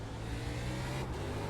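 Car engine revving high toward the rev limiter in a racing video game, a steady loud droning roar held throughout with no talk.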